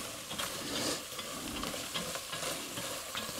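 Utensil scraping browned flour off a pan while making chicken fricassee with onions and pepper, a faint repeated scratching over quiet sizzling, several strokes in a loose rhythm.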